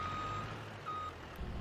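A concrete truck reverses in Farming Simulator 22, its backup alarm sounding steady, evenly spaced beeps over a low diesel engine rumble.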